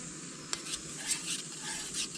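Food simmering in a pot of brown sugar sauce on a camp stove at a canoe campsite, a soft continuous bubbling hiss with a faint stir or clink of a utensil against the pot.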